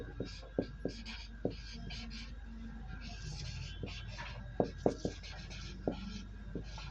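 Marker or chalk writing on a board during a maths lesson, a series of short scraping strokes with sharp taps, close and fairly quiet, with a teacher talking intermittently.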